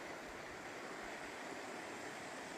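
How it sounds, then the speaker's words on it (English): A river flows beside the Appalachian Trail, a steady broadband rush of moving water heard alone, with no voices and no breaks. "More of this beautiful river here."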